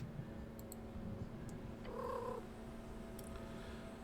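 Soft, steady purring from a cat in the video game Esoteric Ebb, a faint continuous rumble over a quiet background with small clicks.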